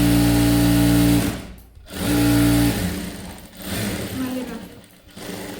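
A sewing machine stitches a dress made from a saree in two steady humming runs, stopping between them, then a shorter softer run while someone speaks briefly.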